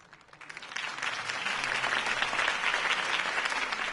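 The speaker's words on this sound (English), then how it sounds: "If only Mr. Wayne, my campaign's largest backer, could have heard that applause" Crowd applause swells after a campaign speech in the Batman Telltale video game, starting with scattered claps and quickly building into steady, full clapping from a large gathering, heard alone without talk.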